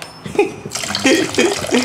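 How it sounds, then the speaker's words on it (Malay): Water pours into a cooking pot for making rice, a short burst of splashing and trickling that sits close to the listener, with faint background sounds. "aku nak lebihkan air sebab aku nak masak nasi lembik sikit hari ni"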